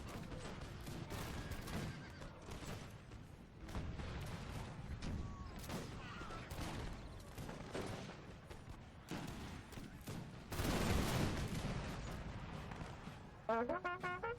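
Distant musket volleys crackle through a Waterloo battle in Napoleon Total War, a dense fusillade mixed with horses neighing and clattering cavalry, faint and continuous with rising bursts.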